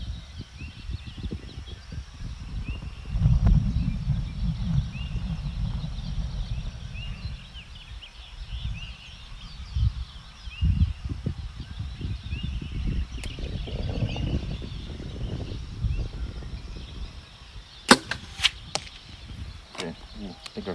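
An arrow fitted with Blazer vanes is shot downrange outdoors. Low wind-like rumble and rustling run throughout, with a few sharp snaps and impacts clustered near the end.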